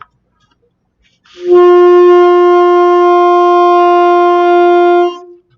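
A single sustained alto saxophone D note rings out steadily for about four seconds, clear and close, in an otherwise quiet room.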